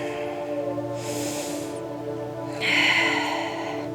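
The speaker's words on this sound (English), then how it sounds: "and exhaling through your nose." Nasal exhales during a beginner yoga class: two soft, breathy rushes of air, one short and one longer and stronger, over a steady hum of background music.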